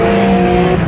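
A Porsche race car on a track brakes hard, giving a brief, loud, steady engine drone with a strong tonal whine and no voices.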